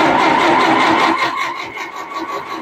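An antique Ferguson TO-20 tractor engine cranks and catches, then runs loud and close with a rough, uneven mid-range drone that wavers slightly as it settles.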